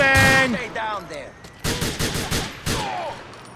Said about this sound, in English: I can't see who or what I'm shooting!